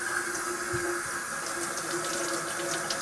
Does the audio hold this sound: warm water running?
yes